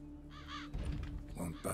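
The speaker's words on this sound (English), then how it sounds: "A lot of crows." A crow in a video game gives a couple of quick harsh caws over a low droning background, with a voice talking over the latter half.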